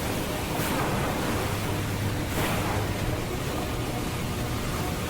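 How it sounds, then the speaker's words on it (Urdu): High sea waves surge and roar in a dense, continuous wash of surf and wind, loud and unbroken, with faint swells rising and falling. "اچانک اونچی اونچی لہریں اٹھنے لگیں۔"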